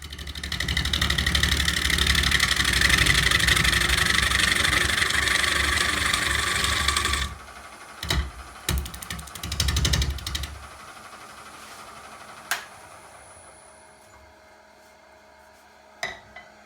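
A wood lathe spins a bowl blank working loose in its chuck, a loud steady motor drone with low rumbling thump that cuts off abruptly, followed by a few knocks and quieter mechanical noise as it winds down.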